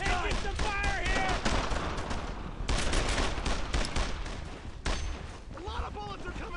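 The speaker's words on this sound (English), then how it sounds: "A lot of bullets are coming" Dense World War II rifle and machine-gun fire rattles through a German-occupied French village in Brothers in Arms: Earned in Blood, with bursts of rapid shots, heavier blasts and shouting voices mixed throughout.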